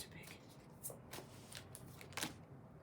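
Oversized cards shuffled by hand in quiet bursts of crisp riffling and slapping, several distinct flurries a moment apart, close and soft.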